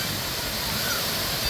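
A big tipping bucket under a tiki head on a Clementon Park water park splash structure dumps its water, making a loud, steady, close rushing cascade throughout.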